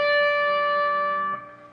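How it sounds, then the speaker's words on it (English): A single guitar note picked on the 15th fret of the B string rings out clear and sustained, slowly decaying alone with no talk. "you're going to place your pinky on the 15th fret of your B string"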